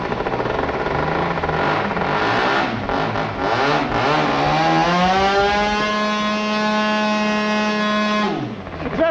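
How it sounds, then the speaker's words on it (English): A 10cc model aircraft engine runs loud and steady, its buzzing whine climbing in pitch and then holding a high, sustained note for several seconds before cutting off abruptly at the end. "that 10cc engine develops nearly 1 horsepower"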